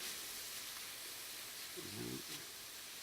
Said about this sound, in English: I'm going to throw some onions in here